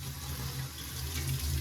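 Tap water runs steadily from a faucet into a container, a continuous close splashing flow used to mix a calf milk-replacer bottle, heard alone without talk.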